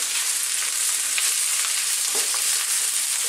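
Peppers and other vegetables stir-fry over high heat, a steady loud sizzle with faint scraping and tossing underneath, with no talking.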